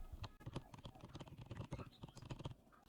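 Quick typing on a computer keyboard as a Windows search for Microsoft Store is entered, a close, rapid run of light clicky keystrokes, no talk.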